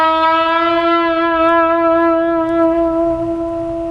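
Electric guitar note half-bent at the 9th fret and shaken with the whammy bar, a single sustained bright tone with a gentle wavering vibrato that rings clearly and slowly fades, no talking.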